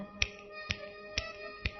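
Four sharp finger snaps at a steady, even pace, close and distinct over a faint hum, during a Bhagwat Katha recitation.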